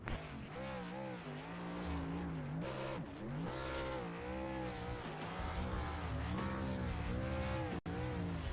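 A race truck engine roars down the front straightaway at Dover in a sim racing truck series, its pitch climbing and dropping through repeated gear shifts, with tires squealing, loud and close with no talk.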